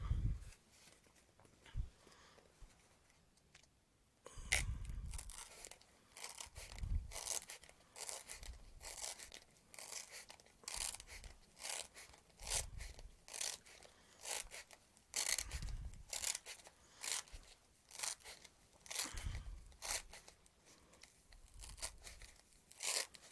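A craft knife with a fresh blade slices through a foam pool noodle, producing repeated soft crunching, squeaking rasps in a steady rhythm of short strokes. The sound is close and fairly quiet, with no talk.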